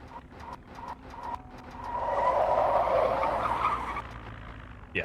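A battered car in Project Zomboid is shoved into position, its tires skidding in a rising, grinding screech that peaks midway and fades, after a few faint rhythmic knocks at the start.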